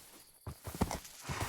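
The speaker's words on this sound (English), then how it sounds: "we befriended a horse" Horse hooves clip-clopping in the farming game Homestead, a run of soft, moderately close steps at a walking pace, with no talk over them.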